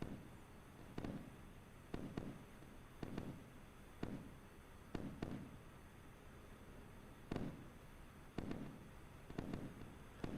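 In the Sea Power naval game set in a 1982 Cuban crisis, surface-to-air missiles launch in a series of sharp, booming bursts, around a dozen spaced irregularly over a constant low rumble, moderately distant.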